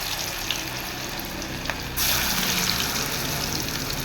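Spoonfuls of toor dal bonda batter drop into hot oil, which sizzles and crackles steadily up close, then swells into a louder, fuller fry about halfway through.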